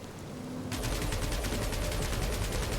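A dense burst of rapid automatic gunfire in Marvel's Guardians of the Galaxy starts abruptly and rattles on loud and steady, close, with no talking.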